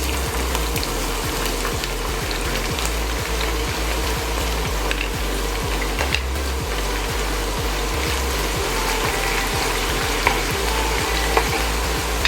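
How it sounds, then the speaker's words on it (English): Onions fry in hot oil, a dense, steady sizzle with constant crackle and a low rhythmic bubbling, close and loud with no one talking. "Now our oil is hot. So what we do first is we put in some onions."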